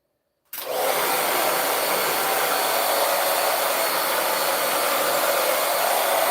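After a brief silence a hair dryer switches on and roars loud and close, blowing steadily on long, tailbone-length 4c hair with an unbroken airy whine.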